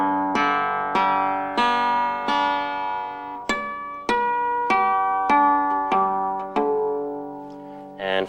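Acoustic guitar in open G tuning, with the A string and low E dropped to G and D, strummed in about a dozen sharp full chords that ring with bright sustaining overtones, close and alone.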